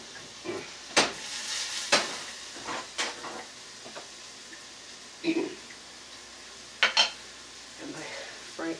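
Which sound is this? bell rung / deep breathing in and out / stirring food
stirring food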